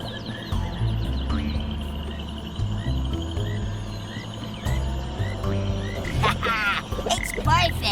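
Several cartoonish frogs croak repeatedly in a game cutscene from Ben 10: Power Trip, with deep rhythmic croaks layered over higher chirping calls and a busier, denser burst of croaking near the end.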